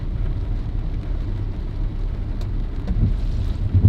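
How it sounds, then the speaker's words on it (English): Rain falls on a gray day, making a dense, steady hiss with low rumbling underneath that swells slightly toward the end, with no voices. "It is a nasty, gray, rainy day"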